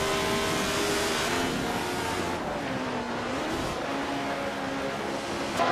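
A 1971 Matra MS 120B race car engine screams continuously at high revs, loud and steady with pitch shifts as it changes gear and holds speed, with no talk over it.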